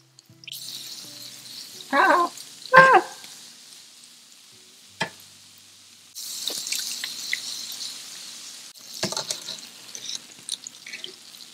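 Cinnamon donut dough on parchment paper slides into hot frying oil, setting off bursts of bubbling sizzle that rise and fade, followed by steady crackling frying with a few louder spatters, close and alone with no talking.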